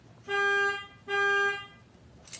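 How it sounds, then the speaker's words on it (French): A car alarm set off by remote gives two loud, sustained horn-like blasts with a short gap between them, close by, then stops. "Voilà, il a déclenché l'alarme à distance."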